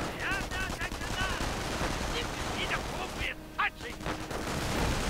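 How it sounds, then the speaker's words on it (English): Rangers and an officer firing in a video game, with a dense spread of gunshot bursts and rapid machine-gun style fire, loud and continuous across the whole stretch, mixed with battle sounds and voices. "And the officer opens up, Rangers firing."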